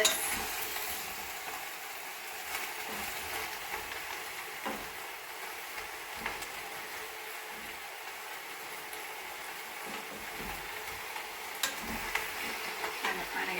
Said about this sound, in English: once we start simmering the liquid in here, it'll draw up all that flavor off the bottom of the pot